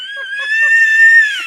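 A one-year-old baby boy screams loudly and steadily in a sustained high-pitched wail, with brief fainter vocal sounds mixed in.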